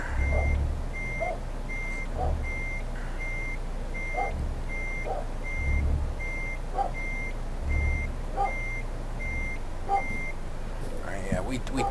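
A Renault Premium truck in Euro Truck Simulator 2 backs up with a trailer, its reversing alarm beeping in a steady, evenly spaced series over a low rumbling engine, with a voice talking over it.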